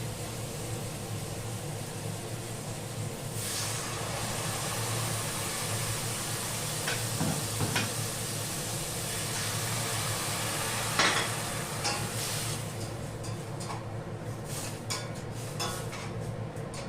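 Reddened onions and masala frying in a pan, giving a steady close sizzle with occasional stirring and clinks of a utensil against the pan.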